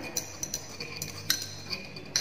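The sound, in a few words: stirring turbid water sample in glassware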